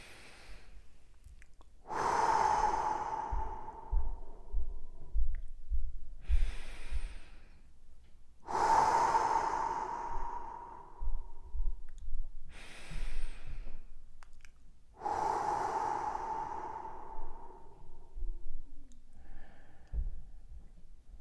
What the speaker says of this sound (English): we're going to start with 3 big deep breaths